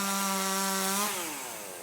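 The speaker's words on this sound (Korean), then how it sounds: "전기톱이 지나는 자리마다 나뭇가지들이 우수수 떨어져 나갑니다" An electric chainsaw prunes tree branches in an apartment complex, a loud, steady whine that holds a high pitch for about a second, then drops in pitch as it bites into the wood and bogs down.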